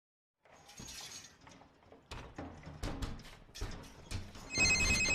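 Several mobile phones taped to a boy's body ring together in a tense scene from the horror film The Silence, with overlapping electronic tones building in loudness, alongside clattering and crashing noises.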